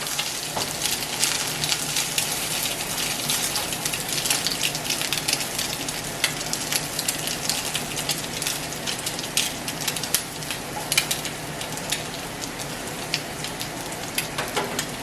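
Salmon patties fry in a small cast iron pan, giving a loud, steady, crackling sizzle that holds without pause throughout, with no talk.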